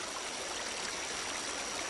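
A creek flows steadily with a continuous soft rushing and trickling wash, even and unbroken, at low level with no voices.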